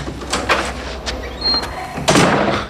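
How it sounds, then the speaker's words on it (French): A door is pushed shut indoors, a couple of soft knocks and scrapes leading to a firmer thud near the end, heard close and fairly loud. "Et ferme la porte"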